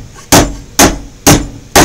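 A hammer pounds metal on an anvil in a steady rhythm, four loud, close clanging strikes spaced about half a second apart, each leaving a short bright ring.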